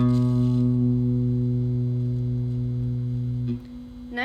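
A single guitar note on the A string, second fret, sustains cleanly and evenly for several seconds, close and unaccompanied, before cutting off with a brief soft noise.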